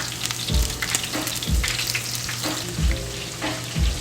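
A chuck roast sears in a thin pan on an electric stove, giving a steady loud sizzle and crackle, with a low thump about every second as the meat or pan shifts.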